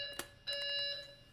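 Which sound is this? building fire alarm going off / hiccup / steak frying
building fire alarm going off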